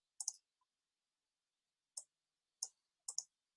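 Computer mouse clicking on an OK button, a few crisp close clicks, some doubled, separated by silence with no talk.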